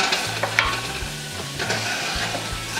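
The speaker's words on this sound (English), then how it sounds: "So let's cook for 2 to 3 minutes with the shrimp" Shrimp frying in a pot, with a steady close sizzle and stirring scrapes throughout, fairly loud with no voices.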